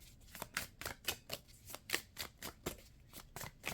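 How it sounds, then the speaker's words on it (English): Handling a new tarot deck, with a steady run of soft riffling and slapping card sounds at a quick, regular rhythm, close and fairly quiet, no voices. "I dropped a card like I just did"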